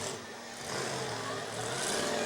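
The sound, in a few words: demolition derby car engine of the 841 running rich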